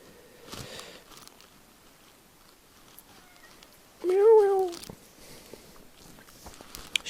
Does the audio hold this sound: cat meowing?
yes